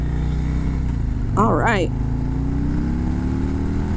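A 2024 Harley-Davidson Road Glide motorcycle in sport mode holds a steady engine drone with rising tone through the ride, wind noise throughout and a short spoken phrase partway in.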